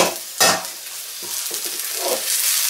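Prawns stir-frying in a non-stick wok with little oil, giving a steady sizzle broken by a loud scrape or stir near the start and a few softer stirring knocks later.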